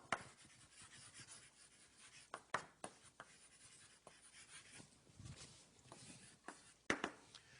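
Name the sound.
writing on the board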